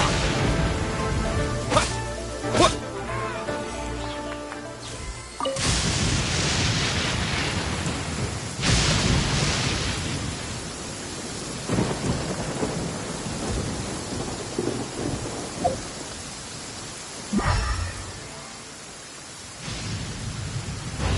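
A lightning slash attack in the video game Genshin Impact, with sharp crackling strikes and rumbling thunder-like bursts repeating over a dense, noisy, rain-like background.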